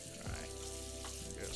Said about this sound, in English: That's why I rinse everything under the tap